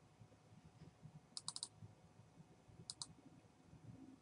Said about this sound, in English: Let me click it again